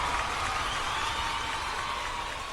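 Steady applause from an audience or crowd, continuous broadband clapping at moderate level throughout with no clear individual claps standing out.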